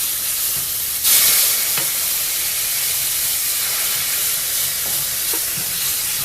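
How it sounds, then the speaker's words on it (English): A flour roux is stirred in a hot pan as milk is poured in, producing a steady hiss and sizzle with a sharp burst of steam and occasional scrapes of the spoon. "you want to keep moving that as you begin to add the milk"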